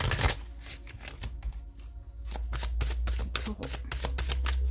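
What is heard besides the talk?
shuffling oracle cards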